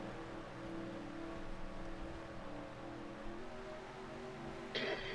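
Race cars roll behind a pace car at Texas in a NASCAR racing video game, a steady droning hum of engines at moderate level, with a sharp higher burst near the end and no talking.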